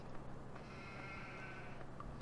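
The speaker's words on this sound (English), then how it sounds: "I hear sheep" Sheep bleating inside Farming Simulator 15 on an OGF USA farm map, a wavering, nasal bleat or two sitting over a steady game ambience of low hum and faint mechanical noise, moderately distant rather than close.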